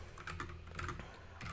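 Code being typed on a computer keyboard, a quiet close run of soft keystrokes in an uneven rhythm with small gaps between clusters.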